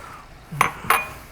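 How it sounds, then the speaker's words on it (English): Carrots tipped into a hot pan while stir-frying Filipino pancit bihon noodles, giving two quick metallic clatters about a third of a second apart, close and fairly loud, with no talking. "So you can add now the carrots."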